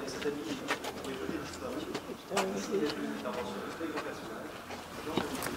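Pigeon cooing from a perch above the rooftops of Salers in southern France, soft repeated low coos with a few bird chirps, while someone narrates over it.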